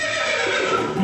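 A horse whinnying as a sound effect in a Tamil heritage stage play, one loud drawn-out neigh with wavering pitch that rises and falls, ending in a short low snort.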